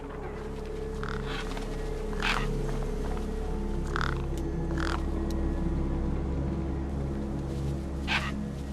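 Crows caw in Beyond a Steel Sky, several harsh calls scattered irregularly at mid distance over a steady low ambient drone, with no talking.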